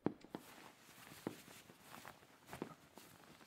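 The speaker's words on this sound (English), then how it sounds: "You hear footsteps click on the flagstone as you pace down the aisle." Footsteps click on a flagstone floor as someone paces down a church aisle, a few sharp, quiet taps spaced irregularly over a faint hush.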